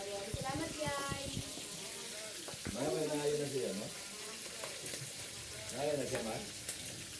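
Food frying in a pan in a home kitchen, a continuous hiss and sizzle with occasional stirring scrapes, while people talk and chat nearby.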